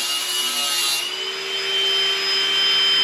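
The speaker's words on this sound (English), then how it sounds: "He's gonna finish grinding that." An electric grinder working metal brackets in a shop, a steady loud high-pitched whine with abrasive rasping that shifts pitch slightly midway and continues unbroken throughout.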